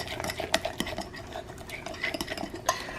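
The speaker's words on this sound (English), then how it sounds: "I'm adding a heaping tablespoon of flour. I'm gonna stir that in." A utensil stirs a heaping tablespoon of flour into banana pancake batter in a bowl, with steady scraping and repeated clinks against the sides, close and continuous.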